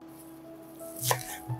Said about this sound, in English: While the pepper is cooking, I will finely chop the parsley.